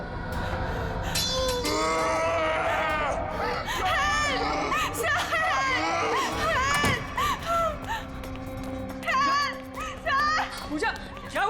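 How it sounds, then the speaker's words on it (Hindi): A woman's frightened screams ring out in a dramatic scene set in a theater, long high wavering cries over a tense background, with shouted voices and short outbursts toward the end. "चीख क्यों रही हो?"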